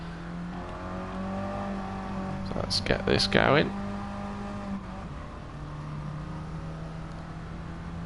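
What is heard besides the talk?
race car leaving the pits in a racing video game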